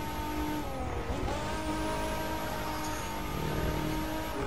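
Infiniti concept car racing and sliding through corners in The Crew 2, with a steady engine drone and shifting pitch as it revs, plus faint tire squeal, loud and continuous with no talk.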